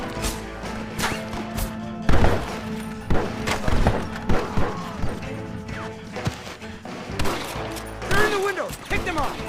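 Gunfire in the Red Dead Redemption shootout, loud heavy shots and crashing impacts in irregular bursts, mixed with shouting voices and game music.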